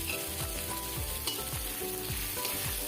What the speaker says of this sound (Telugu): అల్లం వెల్లుల్లి పేస్ట్ పచ్చి వాసన పోయేంత వరకు బాగా ఫ్రై చేసుకోవాలి